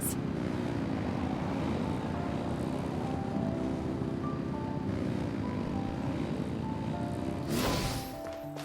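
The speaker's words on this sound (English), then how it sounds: "Rev the engines!" A steady, loud droning engine hum from a flying airship in Genshin Impact, the motors revving continuously with a propeller-like whir, ending in a brief bright whoosh.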